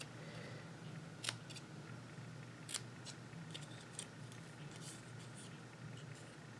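Quiet scissor snips cutting out a stamped congratulations card piece: a few sharp, close clicks spread irregularly over a soft steady background hum.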